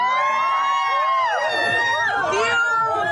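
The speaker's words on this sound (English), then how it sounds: "actor Hugh Jackman was mobbed by fans in Midtown Manhattan as he left rehearsal" A dense, loud crowd of fans swarms actor Hugh Jackman on a Midtown Manhattan street, with overlapping high-pitched shrieks, shouts and cheering layered thickly over one another without pause.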